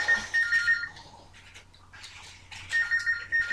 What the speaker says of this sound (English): It's my mother on the phone, I know it is, because she's the only person that lets it ring that bloody long.